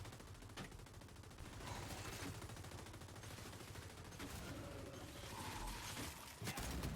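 Dense, sustained gunfire fills a Gears 5 Horde match, with rapid bursts and clattering weapon mechanisms running without pause. A sharp, louder burst breaks through near the end.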